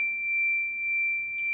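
A tone device set to the key of A sounds a single steady, pure electronic tone. It is held unchanged and fairly soft, with no voices.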